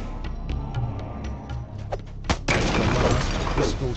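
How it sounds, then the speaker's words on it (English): A magical power crystal in a fantasy tabletop game shatters as a sound effect: a sharp crash breaks into a long, bright spray of crackling glassy fragments, following softer rhythmic ticking. "The last crystal shatters"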